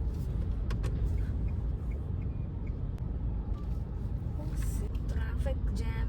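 A Mahindra XUV 3XO moving slowly through a traffic jam among rickshaws, a steady low road rumble with occasional horns and clicks, a person talking over it.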